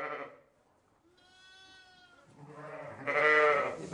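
Sheep and newborn lambs bleating, a fading call at first, then a thin, wavering bleat and a louder, nearby, throaty cry.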